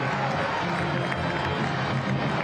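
A large stadium crowd roars and cheers continuously and loudly after a goal in a professional soccer match, a dense wall of voices with no break.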